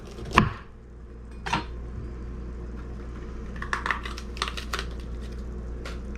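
A knife cuts green pepper on a board for a salad: two distinct chops early, then a quick cluster of lighter taps, close and clear over a steady low background hum.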